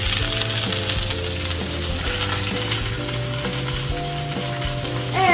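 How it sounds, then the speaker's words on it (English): Chicken breast browns in a hot frying pan, giving a steady, close sizzle that runs through the whole stretch, with faint stirring and a sustained tonal backdrop. "gonna brown the chicken breast on both sides"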